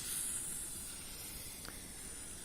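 A piece of sodium fizzing as it skims across water in an alkali metal reaction, a steady soft hiss throughout with a faint brief crackle partway through, close and with no talk.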